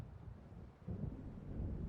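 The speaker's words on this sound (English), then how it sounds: "It seems there's a storm coming." Low, distant thunder rumbles and swells over wind as a storm approaches in the video game Alan Wake Remastered, growing louder and heavier in the second half.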